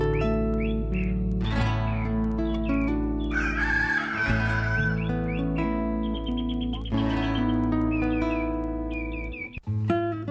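A man imitates a rooster with his voice, giving a long, loud, drawn-out cock-a-doodle-doo crow with warbling, whistle-like pitch glides. It rides over a steady tonal background bed and ends in a brief drop.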